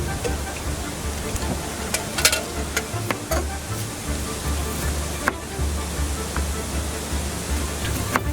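Homemade potato chips frying in oil outdoors, a steady loud crackling hiss with scattered pops, close and continuous throughout.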